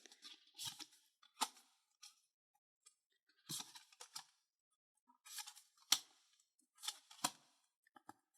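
Scissors snip open a Digimon trading card booster pack in a series of close, crisp cuts and clicks, some in quick clusters and others spaced apart, with quiet in between.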